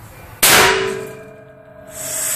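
Single loud gunshot from a Remington 700 bolt-action rifle chambered in 7.62x56R, firing a steel-cased round: a sharp crack with a long ringing metallic decay, then a quieter rising noise.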